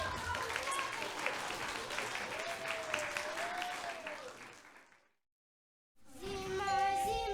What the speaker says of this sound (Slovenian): Zdaj pa zaploskajmo